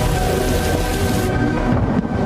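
A severe thunderstorm in a film scene: heavy rain pours loudly and continuously with deep rumbling thunder, the roar thinning slightly partway through but staying dense and close.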